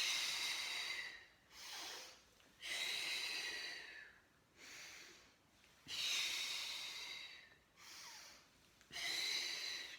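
Steady cycles of deep, audible breathing in a Pilates class for osteoporosis, long hissing exhales alternating with shorter inhales, close and fairly loud, repeating about six times in an even rhythm.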